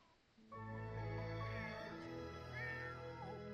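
Cats meowing in The Sims 4, a few drawn-out, rising and falling meows over a steady, near tonal backdrop of game sound.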